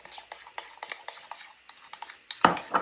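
Seasoning mixture of cayenne, salt and pepper being stirred in a bowl, with a quick series of light scraping, clinking strokes close by, ending in a louder clatter.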